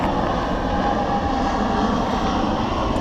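An airplane passes low overhead near Seattle Airport, a loud, steady broadband engine roar that fills the whole clip with no talk.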